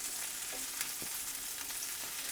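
Steady frying sizzle of sausage in a pan, a soft continuous crackle with faint spatters, heard alone without voices.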